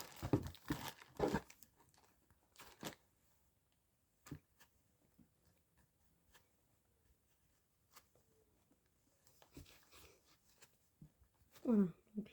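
A small plastic bag crinkles and rustles as it is sealed shut: short, close crackling bursts separated by quiet gaps, with a speaking voice at times.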